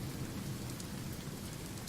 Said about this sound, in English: so it's raining here